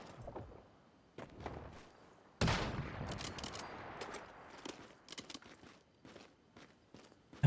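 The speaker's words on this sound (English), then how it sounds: "Don't shoot that gun at me." Gunfire in Once Human, scattered sharp shots and short bursts, one loud burst in the middle followed by intermittent cracks, mixed with footsteps and movement noises.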